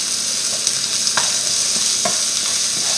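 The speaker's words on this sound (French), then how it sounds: "je vais faire revenir mon ail, mon oignon et mon échalote" Garlic, onion and shallot sizzle steadily in a pan with meat juices for a coconut curry chicken, with several sharp scraping clicks of a utensil stirring through the fry; no talking.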